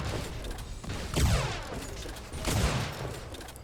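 Two loud, sharp sniper rifle blasts from an amped weapon in an Unreal Tournament match, each followed by a ringing, sweeping tail, spaced about a second and a half apart over constant game noise.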